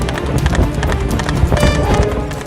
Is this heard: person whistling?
no